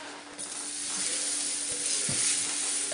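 Margarine sizzles on a hot waffle iron, a steady bright hiss that holds for a few seconds with a faint crackle partway through, close by and with no talking.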